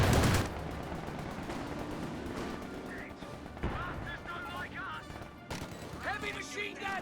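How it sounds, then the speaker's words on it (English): Heavy machine gun fire in a 1v1 tournament match of a war video game, loud sustained bursts and crashing impacts mixed with scattered in-game voices and sound effects. "Heavy machine gun. He's got our range. Under fire over here."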